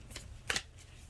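Tarot cards being shuffled, faint and close: a few quick papery riffles with one sharper flutter in the middle over a low background hum.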